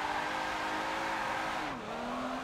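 A car drifts sideways in Forza Motorsport 7, its engine droning steadily while the tires squeal continuously. The pitch dips briefly as the throttle lifts and the car transitions between slides.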